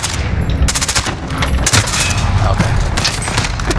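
Rapid gunfire in Call of Duty: Modern Warfare (2019), loud automatic bursts crackling almost continuously with a heavy low rumble beneath, a brief spoken word slipping in between shots.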